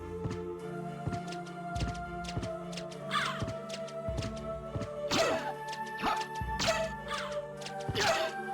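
In Castlevania: Symphony of the Night, a steady beat of repeated thuds runs through the music while harsh bird cries and crashing hits break in several times as a bird attacks.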